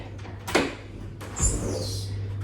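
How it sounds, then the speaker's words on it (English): A door eases partly open with a short sliding scrape, then a brief knock and a higher squeak, set against a steady low hum in a home workout room. "I might open the door slightly."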